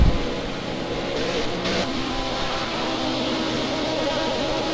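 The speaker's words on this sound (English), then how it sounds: "Just hear the M3s buzzing away there" BMW M3 GT3 race cars in a racing game endurance event on the Nürburgring Nordschleife, their engines droning steadily in a continuous buzzing mid-pitched whine, slightly distant and unbroken throughout.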